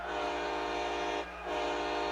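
A heavy freight train sounds a loud, sustained horn blast that cuts out briefly and then resumes, close and dominant over a low rumbling of the train, with no voices.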